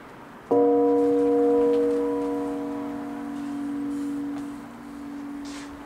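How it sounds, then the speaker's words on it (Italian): A large church bell in the Fregona bell tower, tuned to a slightly sharp B-flat, gives one near, loud strike followed by a long, steady, humming ring that slowly fades, with no voices. "Questa è la campana grande, un si bemolle 2 crescente."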